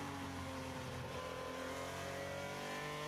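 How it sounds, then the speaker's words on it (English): A GP3 race car engine held at the rev limiter on the straight during a 2016 race in Spain, a steady, faint, buzzing drone with a constant pitch and no break. "Running at the rev limiter at the end of the straight, perhaps"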